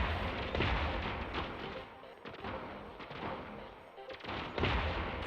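Sniper bot gunfire in the robot battle game Gladiabots, a dense run of overlapping shots and impacts at moderate level, continuous across the whole stretch with no voices.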